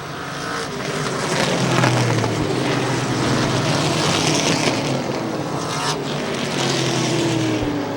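Race cars on a short track roll slowly through turn 3 and then pick up throttle, a dense roar of several engines rising together, loud and steady, with rising pitch sweeps as they accelerate away.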